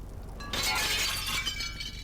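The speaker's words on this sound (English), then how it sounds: "The pane shatters and the way out is clear, theoretically" A thick cabin window glass pane, blocked by crates from outside, shatters in the video game Inspector Schmidt: quiet, then a sudden bright crash of breaking glass that rings and tinkles into a fading scatter of shards.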